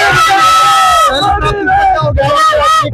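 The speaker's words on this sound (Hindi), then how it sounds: "देखो मेरे कितनी भीड़ है, जनता में एक जोश है" A loud crowd at an Aam Aadmi Party rally celebrating an MCD election win in Sultanpur Majra, Delhi, cheers and yells continuously, with shouts rising over a dense, steady roar of voices.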